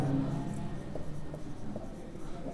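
Chalk or marker scratching across a board while notes are written in a classroom, a run of short close strokes with small pauses between them, heard without talking.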